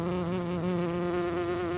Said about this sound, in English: it's an enormous bee just outside my window, moving from flower to flower of my snapdragons